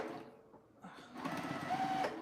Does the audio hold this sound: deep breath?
no